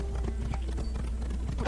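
A horse's hooves clip-clop in the video game Assassin's Creed (set in the late twelfth century), a quick irregular run of thuds under low rumbling game ambience.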